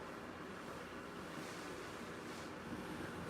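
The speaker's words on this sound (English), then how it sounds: "the wind is absolutely wild tonight" Strong night wind blowing outdoors, a steady broadband rush with buffeting gusts against the microphone and no voices.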